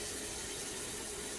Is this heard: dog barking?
no